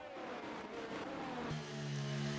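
F2 race cars in a racing video game at the Belgium circuit, several engines droning and revving together with a steady roar and one higher engine tone holding near the end.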